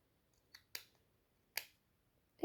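Scissors snip a paper snowflake label in a few quiet, close cuts: a faint nick, then two crisp snips spaced apart, and a last one starting at the end, in an otherwise silent room.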